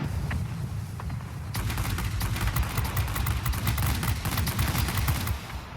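Rapid aircraft machine-gun fire in World of Warplanes during a bomber escort, a dense continuous rattle of bursts over a low engine drone, loud and close, with the firing intensifying partway through.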